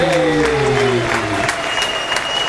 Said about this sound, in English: put your hands together for Mark and Tony